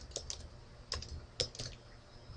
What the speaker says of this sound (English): I'm just going to type in my name here